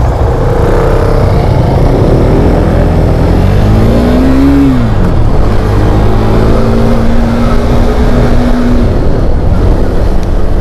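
A 2021 KTM 390 Duke motorcycle engine revs loudly and close, rising and falling through several throttle blips over a steady, continuous engine drone.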